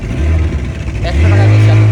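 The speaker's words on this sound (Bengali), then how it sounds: "স্পিড বোট দিয়ে ঘুরতেছি" A speedboat engine at Patenga sea beach rumbles low and steady, swelling louder in the second half, with voices talking over it.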